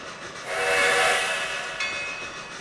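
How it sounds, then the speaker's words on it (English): Automatic steam locomotive whistle in the Trainz 2022 railroad simulator, on the C&O Hinton route: one long, loud, breathy whistle blast that swells, holds for about two seconds and tails off over a steady hiss. "An automatic whistle there."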